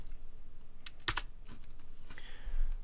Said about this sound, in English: let's go ahead and click enter